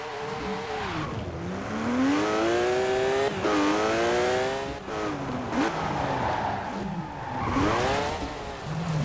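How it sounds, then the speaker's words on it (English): A car engine in a racing video game drones and revs continuously on a test drive, pitch sweeping up and down through gear changes with occasional tire squeal, loud and close with no talk. "Let's just do a little bit of a test drive in it."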